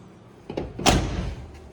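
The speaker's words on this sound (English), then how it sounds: "Door shuts good." A door on a fuel-injected 1978-79 square body truck swings and shuts with one solid slam, preceded by a light click of the latch, close up with no talking.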